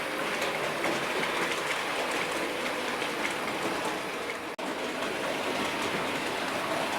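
Several Bachmann model train locomotives run together, giving a steady, even rolling rumble with faint rail clatter throughout and one brief dropout near the end.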